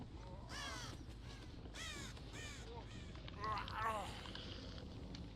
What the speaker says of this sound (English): I saw the crows flying.